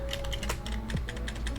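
Quick, uneven keystrokes clatter on a computer keyboard, close and fairly quiet, with a steady low hum beneath and no voices.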